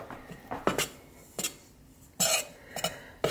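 A spoon scoops cookie dough ingredients from a container and taps against a bowl, several sharp metallic clinks and scrapes spaced irregularly, close and distinct against a quiet kitchen.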